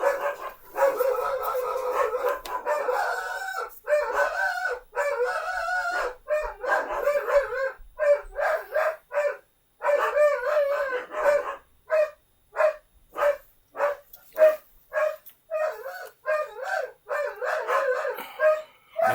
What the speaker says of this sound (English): Dog's going nuts.